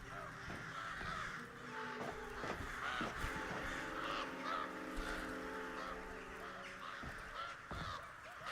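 Crow cawing on a New Orleans dock in the video game Alone in the Dark (2024), repeated harsh caws over a low ambient game background, with someone talking over it.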